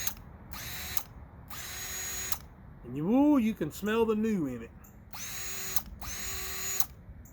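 A Bauer 20V cordless drill whirs in short bursts, two trigger pulls, a spoken pause, then two more, each a steady high motor whine with a ratcheting edge, close up and fairly loud.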